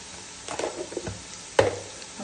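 Sliced onions with mutton fry over a medium flame in a pan, a soft steady sizzle broken by a few stirring scrapes and clacks of a spoon, close and fairly quiet.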